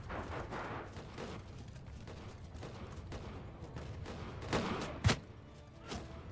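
Gunfire from a large modded battle in Mount & Blade II Bannerlord, a steady rattle of shots with a few sharper cracks near the end, set against a constant roar of battle.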